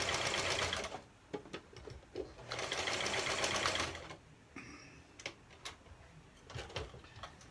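Sewing machine stitching a nylon mask, its motor whirring loud and close in two long bursts with short stops between them, and a few sharp ticks and clicks in the quieter gaps.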